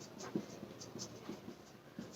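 Chalk or pen writes notes during a political science lecture, faint soft scratching strokes in short bursts close by with no talking.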